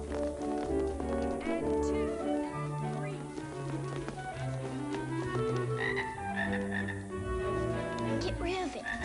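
A game frog in The Little Rascals interactive moviebook croaks over steady background music, with low repeated croaks scattered through the clip amid busy musical tones.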